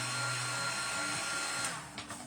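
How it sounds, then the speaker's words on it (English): Hair dryer blowing on a Woodubend wood craft container decorated with flower pieces, a loud continuous whir with a steady hum that shifts slightly as the dryer moves, ending with a few soft knocks. "they go away once you warm it up and dry it off with the dryer"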